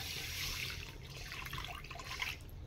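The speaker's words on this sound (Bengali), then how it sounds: "এটা এক বাটির মতন জল দিয়ে দিলাম, করে চিনির সিরাটা বানিয়ে নেব।" Water poured into a bowl of sugar for syrup, a soft, continuous trickle and splash heard faintly, with a light dripping texture.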